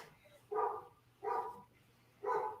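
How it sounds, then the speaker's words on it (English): A dog barks outside, three separate woofs spaced about a second apart, moderately loud but slightly distant, with a quiet low hum underneath between barks. "it's another dog barking outside"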